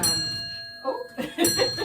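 A clock called Mabon chimes in a room, its sustained bell-like tones ringing steadily with a couple of louder strikes, while a voice speaks over it.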